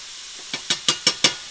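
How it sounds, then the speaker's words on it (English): Onion fries in a little olive oil in a pan, giving five short, evenly spaced bursts of sizzling as it is stirred, close and fairly quiet, with soft hiss between the bursts. "So we're going to cook this onion for just a second in this little bit of olive oil"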